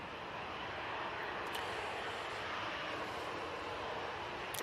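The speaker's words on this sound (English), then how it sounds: "This Jet 2 737-800 off to Rias next." A Jet2 Boeing 737-800 airliner departing Manchester Airport roars as a steady, loud, broadband engine wash that holds even from start to finish, with no voices over it.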